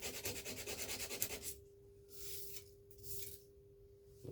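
A chef knife prototype is hand sanded. Rapid, rhythmic back-and-forth rasping comes first, then slower, separate sanding strokes with a faint steady hum underneath and no talking.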